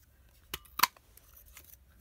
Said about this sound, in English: I'm just going to cut a little flower to go in the middle of the bow